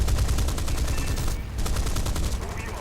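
Rapid bursts of aircraft gunfire from a CAC Boomerang fighter in a flight combat game, a dense rattling stream over low engine drone with a brief pause midway.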